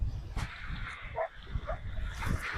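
Dogs playing on a beach, giving a few short barks and yips among a quiet whimper, with wind and surf noise in the background.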